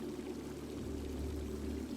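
Steady pouring water at a Healing Water site in the fantasy strategy game Heroes of Might and Magic: Olden Era, a soft continuous stream with a low hum beneath, fairly faint and unbroken.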